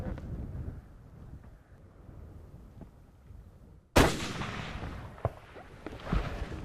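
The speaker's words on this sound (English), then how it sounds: "That was a good shot." A single rifle shot fired at a red deer with Winchester XP3 ammunition on a stag hunt in Argentina cracks sharply out of a quiet, windy field, followed by a rolling echo and a couple of faint later knocks.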